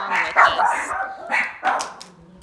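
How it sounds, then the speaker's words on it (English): Several pet dogs bark at a noise out in the hallway, about four loud close yapping barks in quick succession, no talking. "Sorry guys, that was just my dogs."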